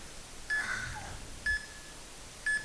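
A Tabata interval timer beeping three times at roughly one-second intervals, each a short, clear tone over a quiet background.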